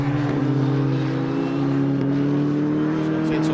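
Formula 1600 race cars at the Aldo Scribante circuit hold a loud, steady high engine drone at close range, with a sustained note throughout.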